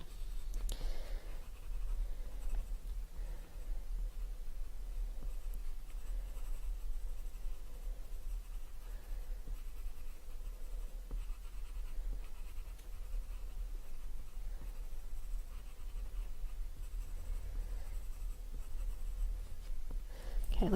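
Coloured pencil scratching softly across paper in a continuous series of faint, close strokes, lighter in pressure at times, with no talking.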